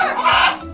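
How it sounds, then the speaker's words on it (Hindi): Hens cluck in a brief, dense burst of close farmyard fowl calls with no voices over them. "हेन्स यानी मुर्गियां"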